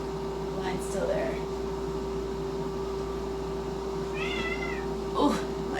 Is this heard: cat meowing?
yes